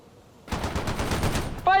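A short, loud rattle of rifle and machine gun fire from World in Conflict, a quick run of closely spaced shots lasting about a second, ending as a voice begins to speak.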